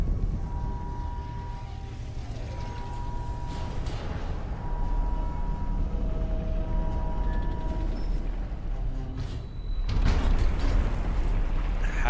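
A space elevator section descends from space in the video game Satisfactory, a loud, steady mechanical rumble with droning tonal whines and creaks that swells into a heavier roar near the end, with no talking.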